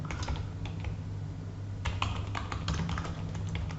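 Quick, light clicking of keys on a computer keyboard, an irregular run of taps that pauses and then resumes in a busier burst, close and fairly soft against a faint steady hum.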